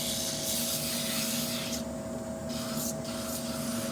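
Sandpaper rubs steadily against a small wooden sphere spinning on a running woodturning lathe, a continuous close hiss over the lathe's steady hum, with no voices.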